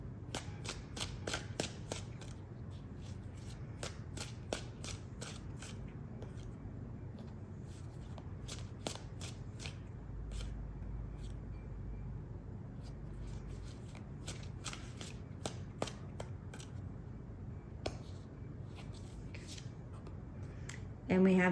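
A deck of tarot cards shuffled by hand in a rapid, continuous stream of crisp riffles and flicks, close and fairly soft, running steadily with no talk over it.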